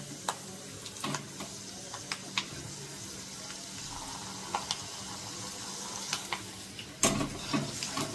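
Peanuts sizzle in oil in a pan while being stirred: a soft steady frying hiss broken by scattered clicks and scrapes, with a louder clatter near the end and no talk.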